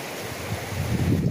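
River water flows in a steady broad rush, close and loud, with low rumbling swells and some wind buffeting the microphone, no voices.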